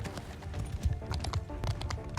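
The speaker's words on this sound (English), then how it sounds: "And we're starting just with the small horse archer charge here" Hoofbeats of a horse archer charge thundering in the Bannerlord game, a rapid, uneven clatter of several galloping hooves in a dense, close rumble with no talk over it.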